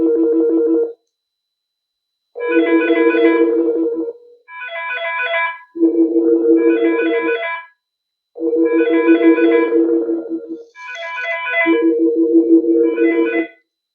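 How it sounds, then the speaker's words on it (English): Fanvil V66 desk phones ring in stages from a Fanvil i16SV video doorphone call, repeated electronic ring bursts separated by short silences, with more phones joining in overlapping tones as the stages progress. "So it's going to start by going to the reception phone first, and then after a couple of rings, it's going to add additional devices"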